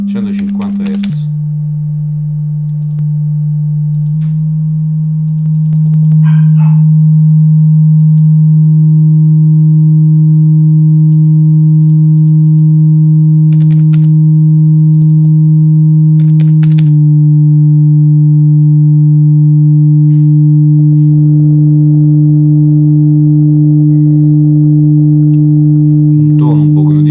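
A 150 Hz test tone, a steady low sustained hum with faint harmonics that shift slightly partway through, loud and continuous with brief speech at the start.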